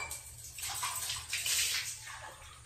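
Running water pours and splashes into a container in a steady, close rush that swells and eases slightly, with a low hum underneath.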